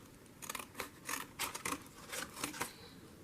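Scissors snipping colorful packaging into strips, a quiet series of close, crisp cuts in an uneven rhythm, around eight snips with short pauses between them.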